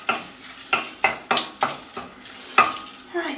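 Broken Kashmiri chillies frying in coconut oil with curry leaves, with a steady sizzle broken by repeated sharp scrapes and clinks of a utensil stirring in the pan, close and fairly loud.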